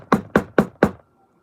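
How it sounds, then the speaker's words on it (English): Four sharp knocks on a door in an apartment building, evenly spaced and close, followed by quiet. "She knock on the door."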